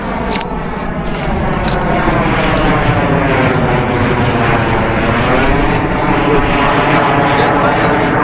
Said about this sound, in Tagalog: normal na lang po yan dito yung mga jet fighter na nagliliparang